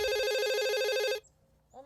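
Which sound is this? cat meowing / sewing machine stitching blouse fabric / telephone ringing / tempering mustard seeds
telephone ringing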